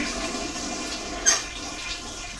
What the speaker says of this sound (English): spit it out in the toilet and flush it.